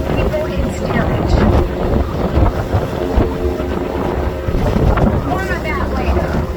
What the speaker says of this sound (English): Now we are on the Hudson River.